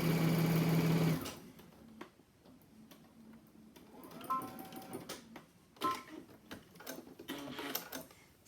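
A sewing machine stitches a few short runs, its needle ticking in quick bursts at close range between quieter pauses, with no one talking.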